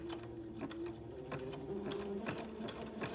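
A sewing machine runs a steady zigzag stitch along a fabric edge at 1.0 stitch length, a continuous quiet whirring hum with a rapid regular ticking of the needle.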